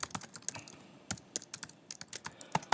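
Rapid, uneven clatter of keys on a computer keyboard while coding lambda calculus expressions in Python, a close, dry run of clicks and taps with short pauses and no voices.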